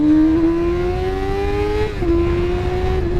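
A Suzuki GSF250V Bandit 250cc motorcycle engine holds a loud, high, buzzing rev up close, rising steadily, then dips briefly as if shifting before climbing again.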